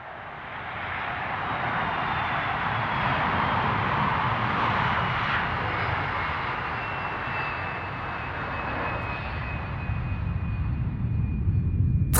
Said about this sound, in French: veuillez attacher vos ceintures pour le décollage